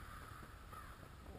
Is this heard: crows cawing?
yes